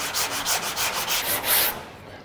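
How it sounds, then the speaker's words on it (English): Rhythmic back-and-forth sanding strokes rubbing down paint along the edge of masking tape on a Ford Escort MK1 body panel, about eight quick scrubbing passes, close and loud, ending in a brief louder swipe then stopping. "all I'm doing is rubbing down to the edge of the tape"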